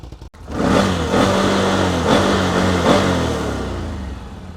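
A 2024 Can-Am Outlander 1000R Max XT ATV engine revving hard after a brief click, holding a loud, throaty roar with several surges before easing slightly toward the end.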